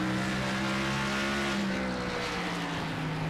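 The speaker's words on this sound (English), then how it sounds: "He'll get on the brakes big time here." Race car in the iRacing sim braking hard into a downhill section, a loud steady engine drone with layered tonal harmonics that dips slightly as it slows, continuous with no talking.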